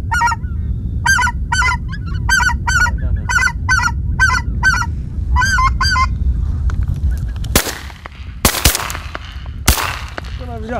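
A flock of geese honks repeatedly in bursts of calls during a goose hunt in Pomorie, Bulgaria, over wind noise, followed by several loud gunshots.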